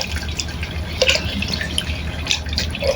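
Hot tap water runs over a used imitation watch battery being rinsed, a continuous splashing stream broken by irregular drips and clinks of the small metal piece under the flow.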